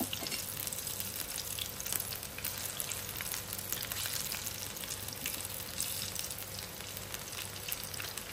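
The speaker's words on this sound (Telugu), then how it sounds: "ఆయిల్ వేడెక్కినాక బజ్జీలు వేసుకుందాం" Wheat flour bajji fritters fry in hot oil, a dense, steady close-up sizzle and crackle that carries evenly throughout with fine popping bursts and no pauses.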